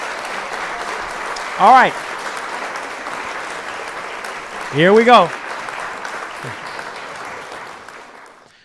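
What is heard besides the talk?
applause sound effect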